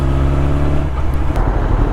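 Motorcycle engine revving steadily after an upshift into fourth gear, a loud, close, sustained drone that drops in pitch partway through the clip as the gear changes.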